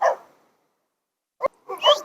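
Stu the dog gives a single short bark in the middle of a training session with Bill Westwood, fairly close and clear, followed by a brief whimpering yip and otherwise quiet surroundings.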